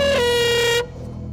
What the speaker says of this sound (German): Kriegst auch die Tröte, ganz laut, damit der Rest aufwacht.